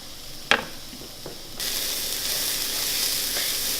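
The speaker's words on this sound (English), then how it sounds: "we're going to let this cook for about 5 minutes, just periodically stirring it, and let that cauliflower rice marry in with all those other flavors" Cauliflower rice sizzles steadily in a hot pan during cooking, with black beans in the dish, a brief scrape of stirring early on before the frying hiss swells louder and stays constant.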